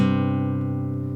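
An acoustic guitar with a quick hammer-on flamming onto the third fret of the A string, a close sustained chord ringing out evenly.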